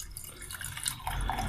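Water being poured for drinking by a tired man, a short burst of splashing and trickling liquid, close and moderately quiet, lasting under two seconds without speech.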